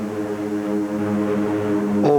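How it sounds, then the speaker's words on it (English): A WWII aircraft engine drones steadily with a low, harmonic roar, loud and sustained, as planes head toward the Normandy coast. "And so are the planes overhead, roaring toward the Normandy coast."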